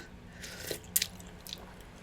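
Someone eats Taiwanese tilapia in broth up close, with a few soft wet bites and sharp crunchy clicks over quiet room noise.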